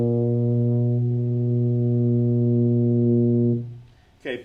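A tuba sounds a sustained higher B flat, one steady rich brass tone held for about three and a half seconds before fading, followed by a short noise.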